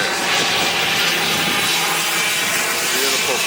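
A Delta Boeing 757 jet airliner at Long Beach airport, its engines giving a loud, steady broadband roar and whine close by, with a voice briefly over it.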